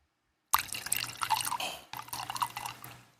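Kraken being poured into a glass at a bachelor party pregame: a close, splashy stream of liquid that runs about a second and a half, breaks briefly, then pours again.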